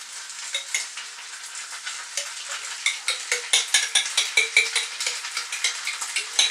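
Pasta tossed into a hot pan with chilli con carne sauce, steady sizzling and frying with rhythmic scraping and stirring strokes that grow louder and more regular, close up with no talk.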